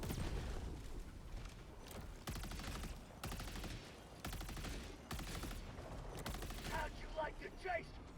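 Quasar cannon in Helldivers 2 firing again and again, each shot a loud, sustained energy blast lasting under a second, coming at a steady rhythm of about one per second over a rumbling game background, with brighter whining tones near the end.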